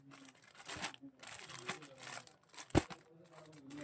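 Crinkly plastic packaging around a tissue silk saree rustles and crackles in bursts, with one sharp tearing crackle, close and fairly quiet.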